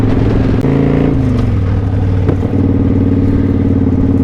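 A motorcycle ridden on a short trip on Thanksgiving Day, its engine droning loud and steady throughout with a couple of brief gear-change dips, no talking.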